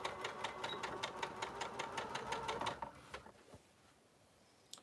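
A sewing machine stitches a seam with fast, even mechanical clatter for about three seconds, then stops and leaves quiet room noise and a few faint clicks. The sound is soft and close, with no voices.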